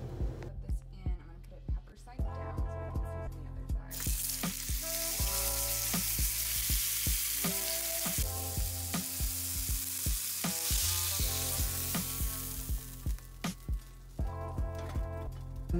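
Filet mignon steak sizzles steadily in a hot pan, a continuous close frying hiss punctuated by tonal kitchen clatter and background music, with a brief quieter stretch at the start.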